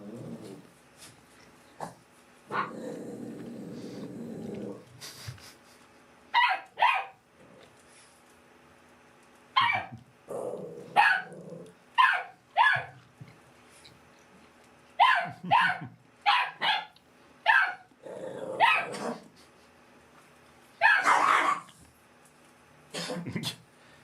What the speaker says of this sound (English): This little dog gets growled at a lot